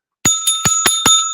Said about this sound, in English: That's the panic bell.